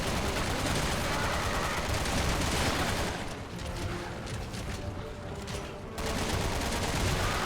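Sustained rapid gunfire and mechanical clatter in Resident Evil 6, loud and dense throughout, easing slightly in the middle before resuming at full intensity.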